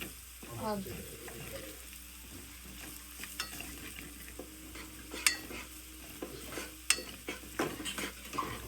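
Ginger garlic paste sizzling and frying with onions in a pan while being stirred, a steady close crackle with scraping strokes and a few sharp clinks of the spoon against the pan.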